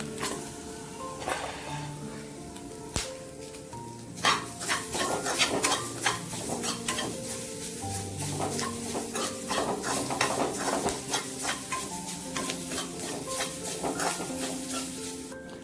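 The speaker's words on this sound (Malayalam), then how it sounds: "ഇതിലേക്ക് എടുത്ത് വെച്ചിരിക്കുന്ന വെളുത്തുള്ളിയും കൊച്ചുള്ളിയും കൂടെ നമുക്ക് ഇതിലേക്ക് ഇട്ടൊന്ന് മൂപ്പിക്കണം." Garlic and shallots frying with coconut in a pan for a Kerala prawn theeyal, a steady sizzle under repeated scraping and clattering stirring strokes, close and fairly loud throughout, no talking.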